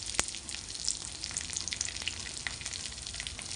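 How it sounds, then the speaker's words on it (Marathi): Ground spice masala of red chilli, coriander powder and garam masala sautéing in hot oil in a pan for a cauliflower dish, with a close, crackling sizzle and scattered small pops over a steady frying hiss. "आणि मसाला असा थोडासा परतू द्यायचा आहे।"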